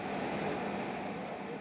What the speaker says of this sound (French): Les avions commerciaux se posent de nouveau